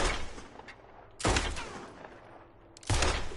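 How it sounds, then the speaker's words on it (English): Gunshots in Red Dead Redemption 2 as skulls are shot: two loud, sharp blasts about one and a half seconds apart, each with a ringing decay, over a low game ambience. "I need to shoot these skulls."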